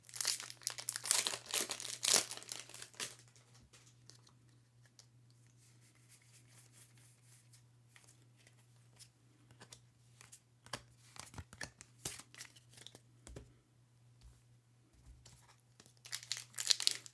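Foil wrappers of Lorcana sleeved booster packs, from a 48-pack case, are torn open and crumpled in repeated crinkly bursts, loudest at the start and end with quieter rustling between.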